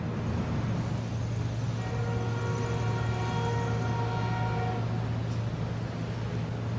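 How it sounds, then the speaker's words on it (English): A neighbor's air conditioner runs with a loud, steady low hum over continuous broadband mechanical noise that holds unchanged from start to finish. "Her neighbor's air conditioner is loud"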